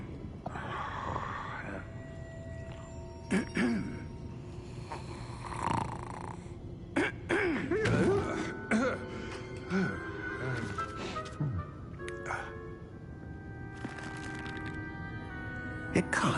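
Game character snoring in Hogwarts Legacy, slow repeated snores and snorts at moderate volume with a voice talking over them.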